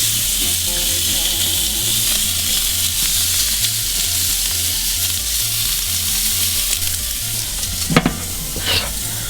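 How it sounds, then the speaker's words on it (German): Wagyu burger patties, oiled first, sizzling on a grill, a loud continuous frying hiss with crackles and a couple of sharper pops near the end, no talk. "So, und jetzt kommen die auf den Grill."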